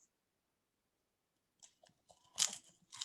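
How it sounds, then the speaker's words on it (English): A man crunching nacho chips, with near silence at first and then a few soft bites building to loud, close crackly crunches of chewing near the end. "And nacho chips. He's crunching."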